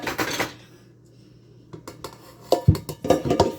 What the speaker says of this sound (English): you continue mashing them until you have all mashed potatoes in your pot